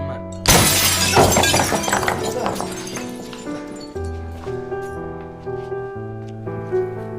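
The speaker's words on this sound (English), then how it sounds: "suddenly a large rock came crashing through the window" A large rock smashes through a house window, a loud burst of shattering glass with shards tinkling and scattering for a couple of seconds, then fading under a sustained musical score.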